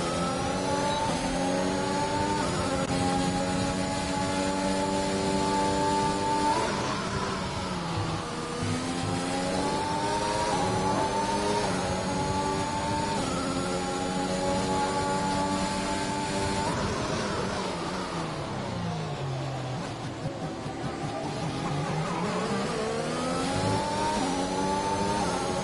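Racing car engines scream and rise through gears during an F1 race in a video game, a steady high-pitched drone with pitch sweeps as cars brake and accelerate, loud and continuous.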